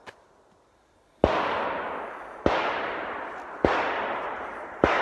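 Four sharp, loud gunshots fired out in the countryside, evenly spaced about a second apart, each a crisp crack followed by a long rolling echo that fades slowly before the next.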